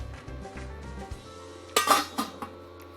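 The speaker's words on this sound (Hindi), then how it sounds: "इसको लगाते हैं ढक्कन" A metal lid clanks onto a cooking pot of simmering tomato gravy, a few close, bright clinks in quick succession after a quieter stretch.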